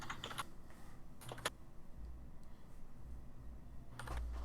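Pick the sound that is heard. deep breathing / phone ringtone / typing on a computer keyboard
typing on a computer keyboard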